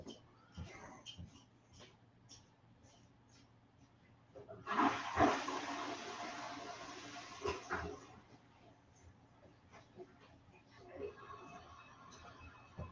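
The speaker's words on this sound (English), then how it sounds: "You flush him down the toilet." A toilet flushes in a rush of water for a few seconds, rising suddenly and then tapering off, while someone talks before and after it.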